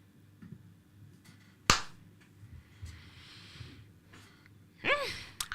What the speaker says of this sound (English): why is this judge banging this table like this?